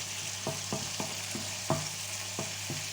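Bacon lardons sizzle and crackle as they brown in a pan for tartiflette, a steady frying hiss broken by several sharp stirring clacks spaced irregularly, close up with no voices.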